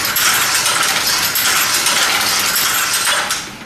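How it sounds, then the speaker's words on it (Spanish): Knitting loom running with its needles moving freely, giving a dense, steady mechanical clatter of rapid ticking and rattling, loud and continuous before tapering slightly at the end. "Observen que cuando el telar anda, las agujas se mueven con libertad."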